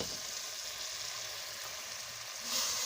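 Ground green masala of coriander, green chillies and mint hits chicken frying in a karahi, giving a steady, even sizzle throughout that swells a little louder near the end, with no talking.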